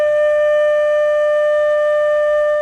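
A flute holding the note D, a single steady sustained tone with clear overtones, loud and close, held unbroken for nearly three seconds with nothing else audible.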